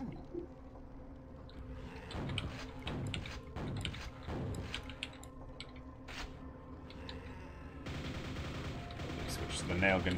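Rapid bursts of nail gun fire in the original Quake, repeated shots ringing over a busy game soundscape with other effects, loud and close throughout.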